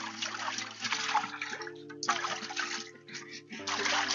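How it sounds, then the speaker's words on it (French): Water pours and splashes inside a canari clay water jar being rinsed, a steady gurgling flow with brief dips, close and fairly loud, with a low hum underneath. "Maintenant qu'on a fini de rincer notre canari"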